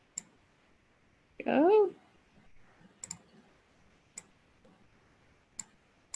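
Sharp isolated mouse clicks in a drawing program come spaced a second or so apart, faint and close, with a short burst of speech partway through.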